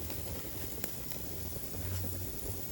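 Filet mignon sears over an open flame on a Napoleon grill, giving a steady, soft sizzle and crackle with a couple of faint sharp pops and no talking.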